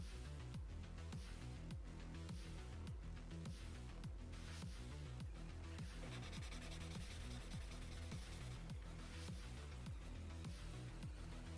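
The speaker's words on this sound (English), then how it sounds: "I'm gonna quickly sand this down so there's no high points on it." Sandpaper rubbing steadily back and forth on a plastic Master Grade Hyaku Shiki 2.0 Gundam model kit part to flatten high points, a close, continuous rasping scrape in quick regular strokes with no talking.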